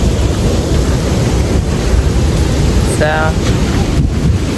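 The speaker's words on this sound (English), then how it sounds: "The breeze is nice and cool." Steady outdoor wind blowing in Oaxaca, Mexico, a constant broadband rush with gusty texture close to the microphone, with a brief voice speaking near the end.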